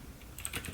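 Computer keyboard keys tapped in a short, faint burst of a few quick clicks while text is typed into a test file, with no one speaking.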